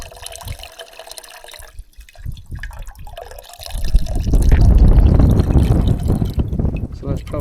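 Water strained through a filter into a 2-liter bush pot at a bushcraft camp makes a steady, close pouring and trickling rush that builds to a loud flow for several seconds, with some drips and handling noise at the start.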